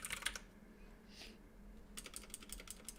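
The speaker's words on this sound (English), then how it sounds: "Ryan's still typing" Quick, quiet keystrokes on a computer keyboard come in short bursts, a brief pause in the middle, then a faster run of soft clicks at the end.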